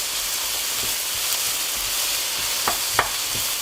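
Tomato paste and wine sizzle steadily in a roasting pan, a constant broadband hiss with a few soft scraping strokes of stirring toward the end, close and fairly loud, no talking.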